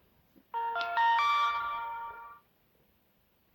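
A Medicube AGE-R Booster Pro skincare device powers on with a bright, clear chime of several rising tones lasting about two seconds, close and alone against a quiet background.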